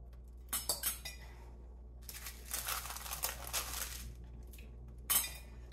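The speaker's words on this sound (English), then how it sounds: "you can kind of just break it up in pieces. And put it in your jar." Pieces of homemade baked granola snapped apart and dropped into a glass jar, giving brittle cracks and crinkles early, a longer run of crunchy rattling in the middle, and a final sharp clink against glass, all close by with no talking.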